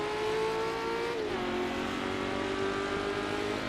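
Ferrari race car engine in Assetto Corsa during historic sportscar racing at Riverside, a loud steady high-revving drone with a brief downshift dip, sustained close throughout with no talking.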